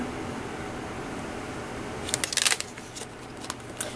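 A paper greeting card being handled and shifted on a work surface, a few short crisp rustles and taps close by, clustered together, over a quiet room hum.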